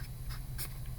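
Pen or pencil scratching out a precalculus equation by hand, a short run of soft, close strokes over a low steady hum.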